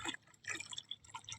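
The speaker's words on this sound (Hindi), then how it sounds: "इतना प्यारा प्यारा पानी आ रहा है।" Water from the water-supply line running into a full bucket, heard as close, quiet splashing and dripping with uneven little bursts and no talking.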